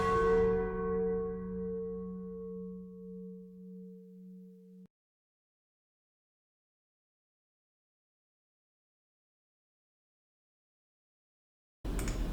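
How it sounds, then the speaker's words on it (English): A single F-sharp bell struck once rings out loud and clear, then fades over about five seconds to silence, with a brief burst of sound at the very end. "Beware my power, the F-sharp bell!"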